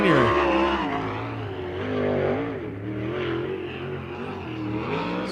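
A sprint car at Circle City, the number 17 GP car of Kevin Thomas Jr., fires up and races a lap, its engine loud and close, revving in rising and falling sweeps that rise again as it pulls away.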